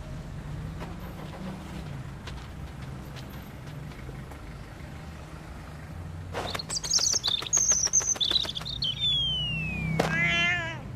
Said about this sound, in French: il y a un petit oiseau qui est tombé du nid